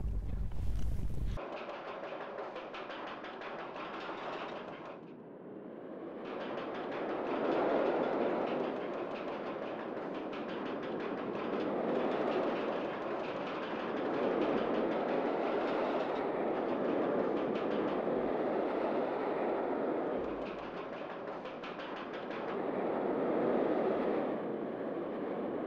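A stand-up steel rollercoaster in Rollercoaster Tycoon Classic makes a test run, with a steady rumbling, rushing ride noise that swells and fades in long waves for the whole stretch after an abrupt start.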